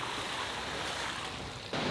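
Steady broadband rushing of water at Sheep Falls, Idaho, a continuous roar filling the scene with a slight shift near the end, no voices.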